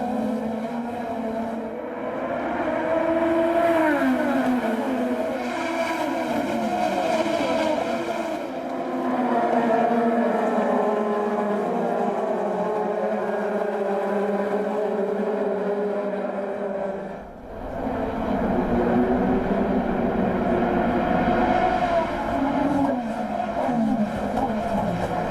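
IndyCar race cars at the 2015 Detroit Grand Prix streaming through a restart, a steady roar of several engines with shifting pitches, loud and continuous, with a brief dip before the noise surges again.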